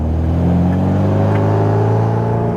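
A Bugeye Sprite fitted with a limited slip differential accelerates on the road, its engine a loud, steady low drone heard from inside the car for the whole stretch.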